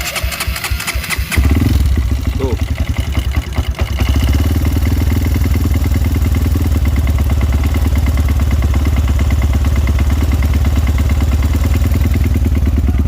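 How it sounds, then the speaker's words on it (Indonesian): A Honda CRF motorcycle with a 200cc bore-up engine starts from cold, then settles into a loud, steady idle with a rapid clacking rattle that runs right through. One brief spoken syllable comes near the start. "Kalau motor ini dingin, baru pertama dinyalain, pasti ada suara kayak klak klak klak klak klak klak gitu."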